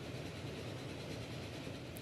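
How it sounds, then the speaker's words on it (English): A train rolls past in the railway game Archipelago, a steady, dense rumble with a faint rattle that holds at an even loudness for the whole stretch, with no voices over it. "I can see a train that we might be catching on"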